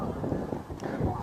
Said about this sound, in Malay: Allah, kuat sikit angin